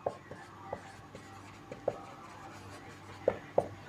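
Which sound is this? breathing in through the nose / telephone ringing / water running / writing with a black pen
writing with a black pen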